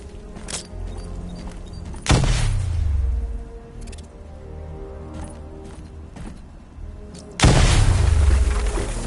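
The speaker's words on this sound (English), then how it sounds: "Get close and apply the explosive directly to destroy that wall." Explosive gel detonates against a wall in Batman: Arkham Knight, two heavy booming blasts several seconds apart with rumbling debris tails, separated by quieter mechanical thuds and clicks.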